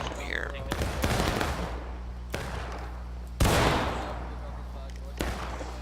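Musket volleys in the Civil War game War of Rights crack out in several sharp, loud reports spaced a second or two apart, each with a rolling tail, over a steady low battlefield drone while players talk.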